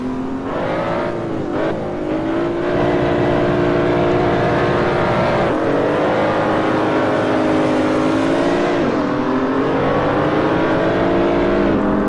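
A BMW Z4 race car in a racing game launches hard, engine note climbing steadily through revs with a gear shift near the end, loud and close throughout with no talking.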